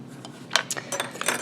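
A wooden sculpture knife scrapes and shaves clay while carving letters into a stamp, a few short, close, dry scraping strokes in quick irregular succession.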